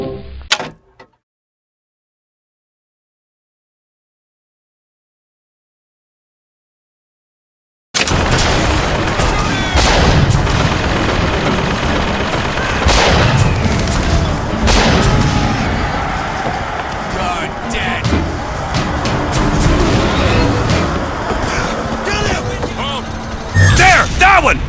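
Gunfire and combat in Bioshock Infinite: after a near-silent stretch, loud clattering shots, booms and impacts break out and continue densely, with voices shouting in the mix.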